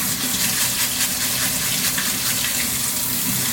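Water gushing from a faucet to rinse rice in a home kitchen, a steady broad splashing rush that holds throughout, close and moderately loud, with no talking.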